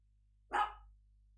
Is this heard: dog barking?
yes